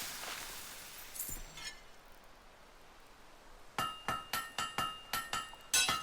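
A blacksmith's hammer strikes metal at a forge in the video game Fable III: after a brief ringing chime, a steady run of about eight loud, ringing metallic clangs follows in quick rhythm.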